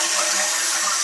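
A toilet tank refills through a new Fluidmaster fill valve, giving a steady, bright hiss of rushing water that holds at an even level throughout with no voices.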